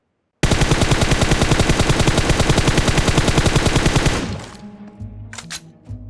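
Loud rapid automatic gunfire from a battle-royale video game, a sustained burst of about four seconds with an even rhythm, then trailing echoes and a few fainter sounds.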